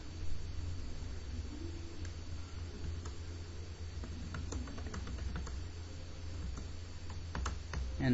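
Steady clicking of keys on a computer keyboard while typing a blog post, quiet and close over a constant background hiss, with a few sharper key strikes clustered toward the end.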